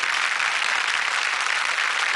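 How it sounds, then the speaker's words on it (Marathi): Loud, dense applause for a young girl from an audience fills the space, a steady continuous wash of clapping with no break. "एकदा जोरदार टाळ्या हिच्यासाठी"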